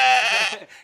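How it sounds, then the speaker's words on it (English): A single Shetland sheep gives one loud, close bleat that wavers, then trails off into a fainter tail. The sheep belong to the original Shetland flock in North America, an ancient breed from the Shetland Islands. "So these are Shetland sheep."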